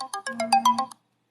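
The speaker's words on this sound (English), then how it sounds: "Yeah, I knew the alarm was gonna go off." A melodic electronic alarm plays a quick run of about eight bright chiming notes, loud and close, then cuts off into silence.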